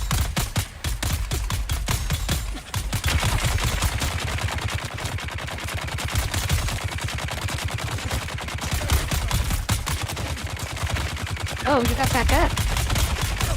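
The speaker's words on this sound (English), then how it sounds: "2 machine guns at the same time." Two machine guns hammer away together in the game Dune, a dense, continuous rattle of rapid shots throughout, with a brief spoken remark partway through.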